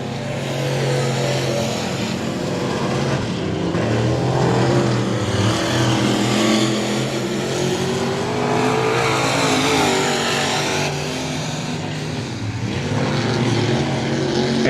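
Several dirt track race cars roar around the oval together during a heat race, a dense, continuous engine drone rising and falling as they pass, loud and steady throughout.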